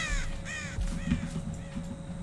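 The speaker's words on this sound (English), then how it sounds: "That must have been a crow coming back." A crow caws repeatedly in Dead by Daylight, several harsh, raspy calls in quick succession over a steady game ambience with a low hum.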